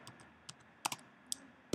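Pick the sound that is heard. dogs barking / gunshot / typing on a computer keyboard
typing on a computer keyboard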